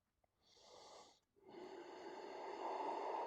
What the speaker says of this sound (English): And we're breathing here.